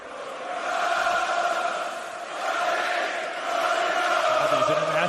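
Large international arena crowd at the WWE Crown Jewel event, Cody Rhodes vs. Seth Rollins, roaring and cheering in a loud sustained wash that swells, dips slightly and rises again, with no distinct voices above it.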